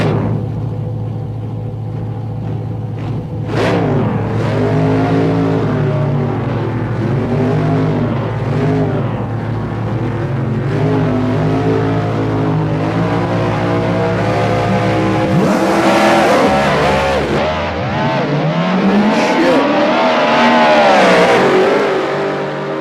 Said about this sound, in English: Listen to that. That's a nice sounding Corvette.